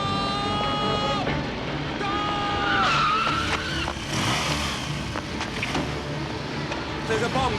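A car in a 1978 film skids to a stop outside a cathedral, its tyres squealing loudly under crowd noise and shouting voices, with engine rumble and scuffling throughout.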